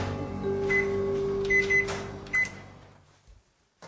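A microwave oven heating a cup of water in a home kitchen hums steadily with a low electrical drone, faint clicks and rattles over it, then winds down and falls silent at the end.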